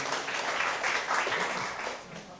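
An audience claps steadily for senior students at a university orientation event for community service program participants, a dense wash of applause running throughout with faint talk beneath.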